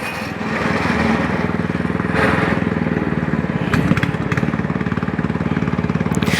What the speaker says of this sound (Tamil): அங்கே பாருங்க, போட் இன்ஜினை போட்டு அப்படியே ரிவர்ஸ் எடுக்க டிரைவன்றார்.